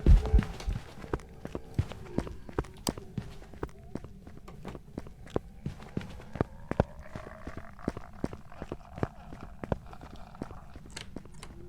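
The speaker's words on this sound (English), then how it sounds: "you can hear the footsteps got really fast there" Ghost footsteps in the game Phasmophobia: a run of sharp, evenly spaced thuds that pick up pace into a quick trot, heard alone against a low hum.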